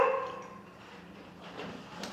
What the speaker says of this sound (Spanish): Yo maldigo al perro que está ladrando y que me molesta en el video